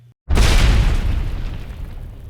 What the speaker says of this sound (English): a loud explosion rocked the area